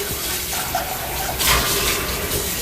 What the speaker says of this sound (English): So fill that dish up with cold water.